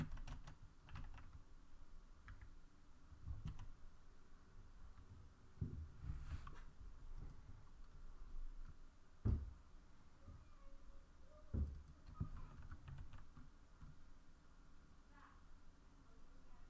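Typing on a computer keyboard at a desk, with scattered soft key clicks and a few louder taps over a quiet hum, fairly close, partly under occasional talk.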